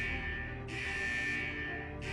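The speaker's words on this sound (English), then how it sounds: "Is that the central alarm of the vault?" The central alarm of a vault in Wuthering Waves sounds as a steady high electronic tone, cutting in and out in two long pulses over a low ambient hum.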